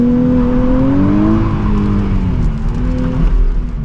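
A 2023 Nissan Z launching under launch control with wheel spin: the engine holds a loud, droning rev, then pitches up and dips as the car pulls away, with rough tire noise and a gravelly rumble close by.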